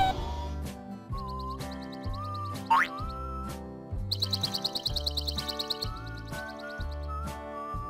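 Birds chirp in a children's learning cartoon: a quick run of bright, repeated tweets rises over the steady background music, near and clear, with a few boing-like cartoon effects around them.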